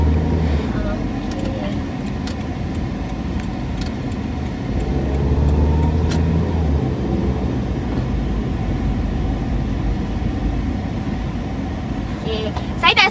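A car rolls slowly through the Seri Pajam landed housing area while its driver looks for a parking spot, with a steady engine and road rumble throughout and some talk over it.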